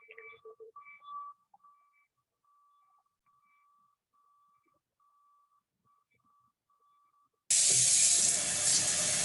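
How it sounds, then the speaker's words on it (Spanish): Water from a tap rushing into a bottle, a loud steady hiss that starts suddenly after several seconds of quiet beeping tones, with no talking. "Está llenando la botella con agua."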